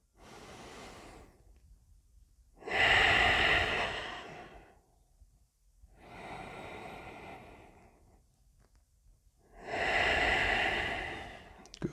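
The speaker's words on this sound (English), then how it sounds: "breathing in and out." Slow, deep yoga breaths move in and out in long swells, four drawn-out breaths of several seconds each with quiet pauses between, close and airy, the exhales fuller and louder.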